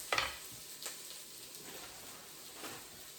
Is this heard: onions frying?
yes